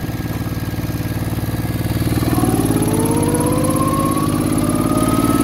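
A 1968 Moto Guzzi V7 700 motorcycle engine, freshly rebuilt with sleeved cylinders, runs close by with a loud, steady throb that climbs in pitch partway through as it revs.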